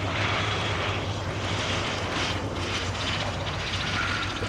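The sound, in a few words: Gloster Gladiator Mk.II biplane engine coming in to land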